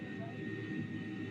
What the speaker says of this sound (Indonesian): Jadi suara mendengung begini akan terdengar